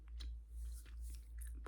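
Gum being chewed at close range in a quiet coffee-bar setting, with soft wet mouth clicks and smacks recurring in an uneven rhythm over a low steady hum.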